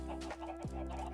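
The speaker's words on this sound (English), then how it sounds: "So we have a chicken farm." Chickens on a video game farm cluck in short, soft bursts, one call sliding downward, over a steady synthetic background hum, faint and close, with no talking.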